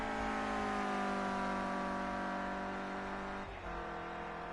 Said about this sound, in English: Snaking his car left and right, just getting valuable heat in the tyres.